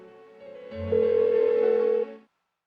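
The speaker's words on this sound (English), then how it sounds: "Why won't she pick up the phone?" A phone rings unanswered in Persona 4 Golden, giving one steady electronic tone that swells, holds for about a second, then cuts off into silence, with no talk.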